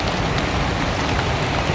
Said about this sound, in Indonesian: Dengan kondisi hujan seperti ini kita tetap lanjutkan